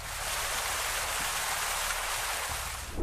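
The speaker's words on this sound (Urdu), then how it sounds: "جھرنوں کی آواز" Water cascading from falls hisses and splashes in a thick, constant roar, bright and close, with faint low churning underneath and no one talking.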